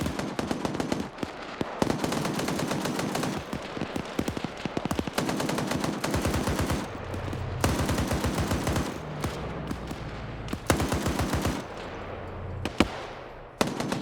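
Sustained bursts of automatic gunfire crack and rattle close by in rapid, dense volleys, with brief pauses between strings of shots and heavy low thumps beneath, during a firefight in which someone is hit.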